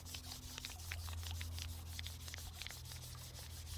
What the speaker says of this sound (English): Give it a good rub.